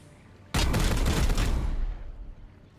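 Gunfire in Warhammer 40,000: Chaos Gate - Daemonhunters, one sudden, loud, dense burst of rapid shots and impacts lasting over a second, then decaying into a fading rumble.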